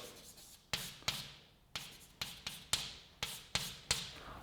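Chalk strikes and scrapes across a blackboard during a mathematics lecture, a series of sharp taps each followed by a short fading stroke, about ten in steady uneven rhythm, fairly close.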